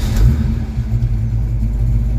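A Ford Mustang with a newly installed Duraspark ignition box idles loudly just after starting, a deep, steady low rumble close by with slight rises in engine speed.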